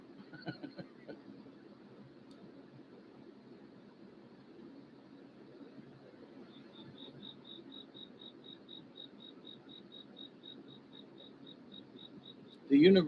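A cricket chirps in a steady, high, evenly spaced trill, faint and continuous over a quiet room, ending with a brief loud knock.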